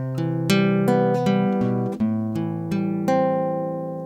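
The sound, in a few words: fingerstyle guitar passing tone on 2nd fret, 5th string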